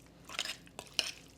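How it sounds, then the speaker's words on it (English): A spoon stirring shrimp stuffing in a bowl, with soft scraping and a few light metallic taps against the dish, close and quiet with no voices. "now just take your spoon or your hands and mix it all up"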